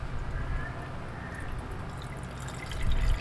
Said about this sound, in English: So I'm just going to gently pour off this green liquid.